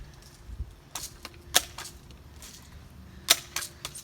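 A BB gun fires several times, sharp snapping cracks close by, with two standing out loudest among a few lighter clicks over a quiet background.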